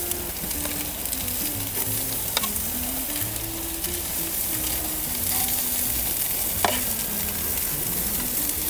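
Sicilian sardines sizzle on a hot grill in a steady, close, even frying hiss that carries throughout, with a faint low background hum and a couple of tiny ticks.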